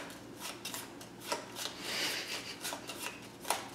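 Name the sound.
shuffling a deck of playing cards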